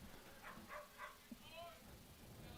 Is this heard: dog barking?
yes